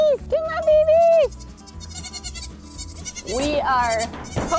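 Baby goats bleat loudly and repeatedly in rising, wavering cries at morning feeding time on a farm, several calls close by over low background noise and a voice speaking.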